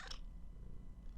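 Cats purring, a low, soft rumble with a faint brief rustle at the start, close and quiet.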